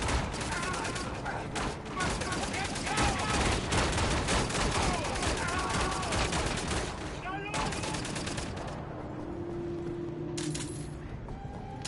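Dense, rapid gunfire in Wolfenstein: The New Order, sustained automatic bursts and overlapping shots rattling loudly for most of the stretch before thinning out, with a voice talking over it.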